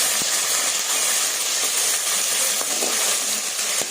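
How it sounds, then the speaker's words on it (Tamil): Ginger garlic paste sizzling as it is sautéed with curry leaves for a home-style chicken curry: a steady, loud broadband hiss of frying with occasional faint pops and clinks, no voices. "அந்த இஞ்சி பூண்டு வாசனை போகிற வரைக்கும் கொஞ்சம் நல்லா வதங்கணும்"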